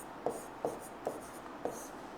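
Pen or chalk strokes of handwriting on a board during a history lesson, four short distinct scratching taps spaced evenly apart, close and clear with no talking.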